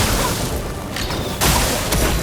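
Explosion attack landing in the turn-based RPG Clair Obscur: Expedition 33, a dense, loud broadband burst with a sharp second hit midway and a brief crack near the end, over sustained game noise.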